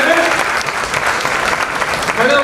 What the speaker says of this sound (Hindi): दोस्तों एक बार जोरदार तालियों के साथ करते हैं